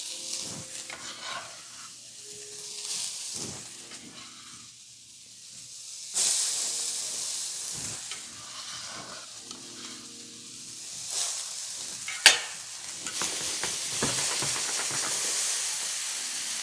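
Chopped medium onion sizzles and hisses in grapeseed oil in a cast iron skillet, with steady frying broken by stirring scrapes and one sharp clink near the end.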